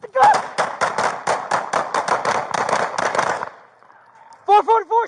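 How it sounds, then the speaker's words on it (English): A rapid string of loud gunshot-like bangs rings out during a police confrontation, a dozen or so in quick succession, then a brief lull before shouting voices break in. "444 shots fired."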